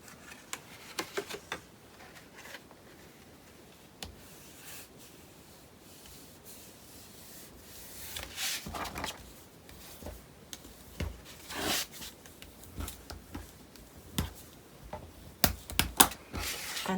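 Paper is folded by hand in soft, close rubbing and crinkling strokes, with scattered sharp creases and taps coming in quiet bursts against a near-silent room.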